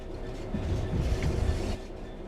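A train rolls along in the railway video game Train Sim World 3: a steady, close, low rumble of wheels on track that swells briefly in the middle and then settles.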